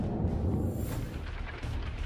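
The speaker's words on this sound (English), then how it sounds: "Look at the fireworks and how its projectiles detonate" Munitions from a Buk air defense system detonate after a HIMARS strike, a dense rumbling roar of blasts and crackling booms heard from a distance, with no voices.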